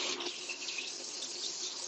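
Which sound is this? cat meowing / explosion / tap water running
tap water running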